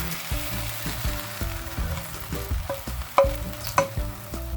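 Pancake batter sizzles and crackles in a hot pan, a steady close frying hiss with a few sharper clicks and pops.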